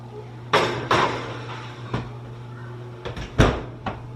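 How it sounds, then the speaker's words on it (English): A baking dish goes back into a home kitchen oven with a series of sharp clanks and knocks, several metallic bumps spaced unevenly, then the oven door thuds shut with a final couple of clatters. "And I'm gonna put this back in the oven."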